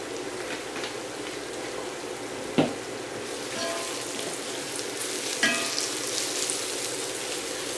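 Paprika sizzles in a hot pan while making Spanish garlic soup, a steady crackling fry with two brief sharp clicks of a utensil, close and alone without talk.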